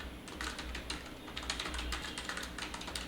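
Rapid, steady typing on a computer keyboard while entering a file name for a visiting card output file, close-up clicks in a continuous run with no speech.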